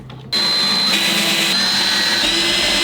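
A small cooling fan running inside an opened DIY power pack or solar generator, a steady close whirring drone with a high whine that starts abruptly and holds evenly to the end.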